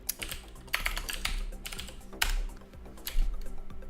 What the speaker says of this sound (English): I'm just going to mash the keyboard.